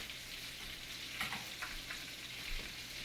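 Salisbury steak patties sear in a hot pan with a steady, faint sizzle and crackle, broken by a few soft scrapes.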